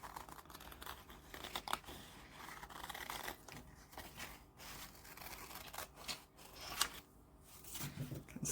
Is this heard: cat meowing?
no